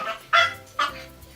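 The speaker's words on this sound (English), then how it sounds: "Everybody, this is my dog, Haley." A small, hyper pet dog named Haley lets out two quick, close yelping barks with a thin whimpering whine between them, at home indoors.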